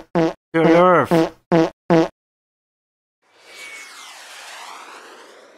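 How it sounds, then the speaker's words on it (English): A cartoonish fart sound effect in the Roblox video game, a long, sustained, breathy rasp that follows a few short spoken bursts from a voice and then carries on alone to the end. "I'm farting!"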